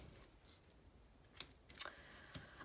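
Scissors cut a couple of pieces of paper for specimen slides using vintage Kodak mounts, giving faint, close snips in a short uneven cluster over a quiet background.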